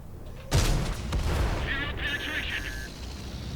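A tank cannon fires in World of Tanks, one sharp loud boom that decays into a rumbling tail, followed by faint in-game mechanical tones.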